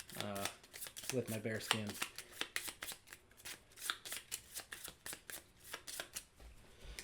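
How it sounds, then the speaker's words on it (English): Marvel United threat cards being shuffled, a run of quick crisp riffling and snapping bursts close by, with someone talking over the start. "let's go ahead and shuffle up her threat cards"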